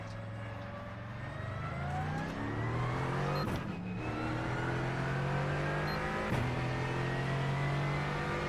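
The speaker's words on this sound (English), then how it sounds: "Keep spinning the race car." A NASCAR Truck Series race car engine at Kansas in a video game drones loud and steady, its pitch climbing and dropping through gear shifts, with brief whooshes of cars passing.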